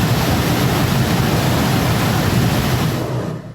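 Loud, rushing floodwater surges continuously during heavy monsoon flooding, a dense broadband roar that holds steady throughout and fades slightly at the very end.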